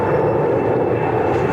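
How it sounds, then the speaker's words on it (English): Aircraft passing over near London City Airport, a steady broad roar that fills the whole clip without letting up, fairly loud and continuous, with no voices over it. "excuse the planes, we're near London City Airport"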